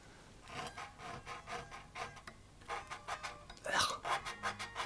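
Rough, unpolished frets on a Kramer Baretta Special electric guitar give a rapid series of scratchy, rhythmic scraping strokes, close and fairly faint, with one louder rasp near the end.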